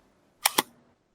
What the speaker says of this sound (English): I think that thump is just the shutter like really closing as it should